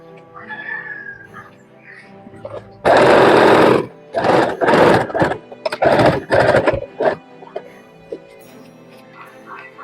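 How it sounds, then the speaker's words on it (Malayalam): A sewing machine stitches shawl fabric in loud, close bursts: one long run of stitching, then several shorter runs with brief pauses between them, and quieter background sounds before and after. "ഈ ഒരു ഭാഗത്തുനിന്ന് ഇതുവരെ ഒന്ന് സ്റ്റിച്ച് ചെയ്ത് കൊടുക്കാം"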